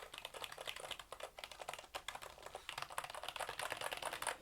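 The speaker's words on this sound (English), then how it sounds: "here's a quick little click test for you guys to hear what it actually sounds like" Key switches on a Logitech Signature K650 keyboard clicking in a rapid, steady run of close, crisp taps, moderately loud and alone.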